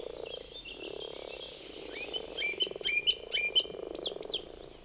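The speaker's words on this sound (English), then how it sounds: "It takes around 3 months for them to turn into adult grass frogs." Grass frogs in a Black Forest wetland giving a low continuous purring croak chorus, overlaid by sharp repeated chirping calls that grow denser toward the end, moderately close with no voices.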